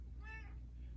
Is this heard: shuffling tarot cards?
no